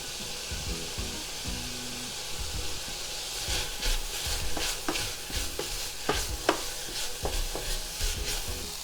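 Kimpira being stirred in a hot pan as ground sesame seeds go in, with steady sizzling and frying under repeated scraping, clacking strokes of a utensil against the pan, close and moderately loud.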